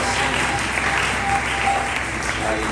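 A church congregation applauds to acclaim God for a father's life. The clapping is steady and dense, fills the whole room and stays loud and unbroken throughout.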